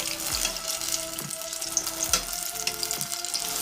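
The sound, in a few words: apple fritters frying in a pan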